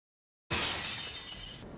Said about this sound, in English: he smashed windows to vent his anger